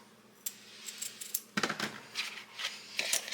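A knife cuts larger food pieces in half on a board while someone preps them for an air fryer. Several sharp close taps and clicks come in an irregular rhythm, with no talking.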